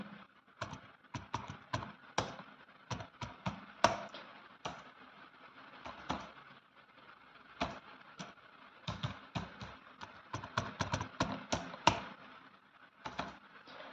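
Computer keyboard typing while entering and saving a ledger in Tally ERP9: irregular bursts of sharp key clicks at close range, with brief pauses between runs and no talking.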